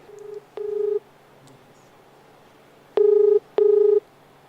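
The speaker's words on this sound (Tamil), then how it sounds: "இப்போ நீங்கள் சொன்னதுனால இந்த லாயர்கிட்ட இப்போ ஃபோன் பண்ணி கேட்குறேன் பாருங்கள்." A telephone keypad sounds four short tonal beeps as a number is dialed to reach a lawyer, two close together, a pause, then two more, over faint room hum.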